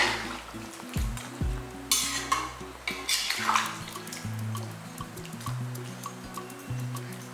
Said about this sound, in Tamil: சுடுதண்ணி ஊற்றுங்க பச்சை தண்ணி ஊற்றாதீங்க